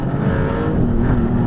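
Maserati GT2 Stradale with its rear-mounted engine, driven on an imperfect road: a steady, loud engine drone with deep rumble, continuous and close, no voices.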